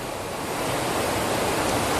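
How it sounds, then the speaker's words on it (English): Water released from Glen Canyon Dam rushes into the Colorado River, a loud, steady broadband roar of fast-moving floodwater filling the whole stretch with no break or voices. "The water behind me is coming so fast it would fill up the Empire State Building in less than 20 minutes."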